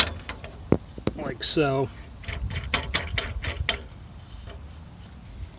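Ratchet tie-down straps being cinched tight to hold a dirt bike on an aluminum carrier from Harbor Freight, giving several quick clicking ratchet strokes and a brief zipping strap pull, with a short spoken remark in between.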